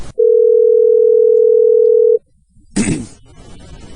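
A steady telephone dial tone holds for about two seconds, loud and clean, then cuts off; a brief clatter and low handling noise follow.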